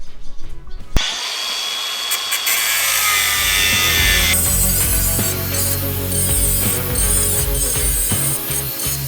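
An old excavator being converted into a forestry machine has a weld seam cut through: a loud, continuous, harsh metal-cutting screech starts abruptly after a short pause and runs steadily for about eight seconds, with no voices.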